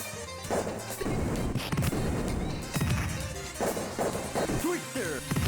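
Smashing hit effects from a 'Twister' attack in the 1993 beat 'em up Riot Zone on TurboGrafx-CD, crashing and thwacking repeatedly over loud game music with someone talking over them.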